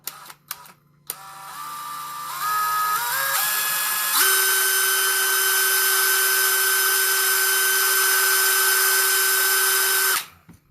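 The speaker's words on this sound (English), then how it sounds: "I am running this drill on high speed, 2000 RPM." A power drill spinning a wire brush at high speed, about 2000 RPM, winding up through rising whine steps into a loud, steady high-pitched spin that holds for several seconds and then cuts off.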